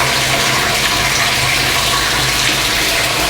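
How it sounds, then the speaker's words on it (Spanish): Hot 75 °C water gushes steadily from a pot valve into another pot to rinse grain while brewing a 50-litre golden ale, a loud, continuous close rush with no talk. "Abrimos esa válvula, ese llave, que de esa olla pasa agua de 75 grados"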